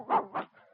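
A pet dog on cue in a Gaines dog food radio advertisement, giving two short close barks, then a softer whimpering yip and the start of another bark, with no talk over it.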